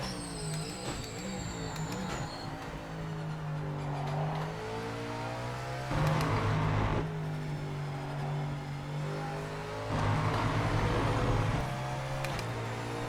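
A GT4 race car in the Project Motor Racing video game drives hard, its engine droning steadily with shifting revs and gear changes, a continuous close in-car roar throughout.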